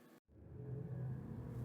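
A 1,100 BHP Bugatti Veyron in the GT Sport video game: a brief cut, then a steady low engine rumble and whir building and holding, fairly quiet and alone with no talk.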